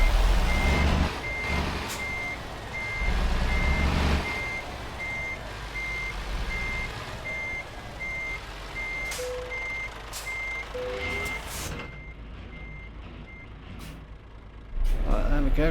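Euro Truck Simulator 2 truck backing up to hook a trailer, its reversing alarm beeping steadily and evenly over a low engine rumble, with brief hisses of air brakes near the end.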